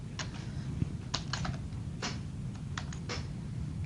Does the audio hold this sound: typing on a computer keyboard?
yes